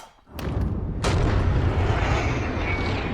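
A handgun fires a single loud, sharp shot at a 50-yard target outdoors in the rain, following a softer earlier pop, and leaves a long sustained rumbling echo with a steady wash of background noise.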